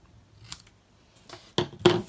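Scissors cut paper for a stamped card in a few short crisp snips, closely recorded in a quiet room, the last two cuts loudest.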